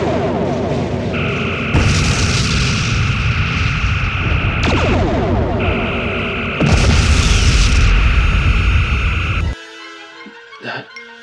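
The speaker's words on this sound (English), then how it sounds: "Target the escort ship. Phasers and photon torpedoes. Make it go away." Starship phaser beams and photon torpedoes firing at and hitting an escort ship in a space battle, loud sustained energy blasts and deep booming impacts, two long volleys ending in a burst and fading crackle.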